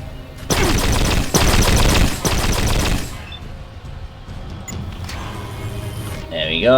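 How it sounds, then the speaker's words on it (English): Sustained loud automatic gunfire against a turret in the Fallout Tactics video game, a dense rapid burst lasting a few seconds, then fading into quieter battle noise with a rising electronic tone at the end. "he can just unload everything he's got into that turret"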